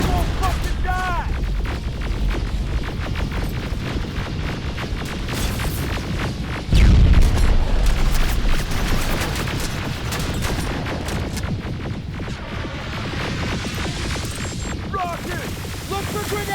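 Rapid gunfire and heavy explosions from the shooter game Terminator Resistance, a dense continuous barrage with a loud blast near the middle, shouted voices mixed in throughout.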